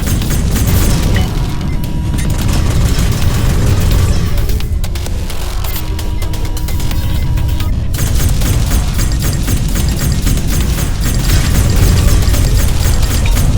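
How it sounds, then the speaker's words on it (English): Ship lasers firing at a target in the SpaceBourne 2 space game, a loud, dense barrage of rapid pulsing shots and booming impacts that runs almost continuously, briefly thinning in the middle before resuming. "Try to use your lasers to shut down the target shield."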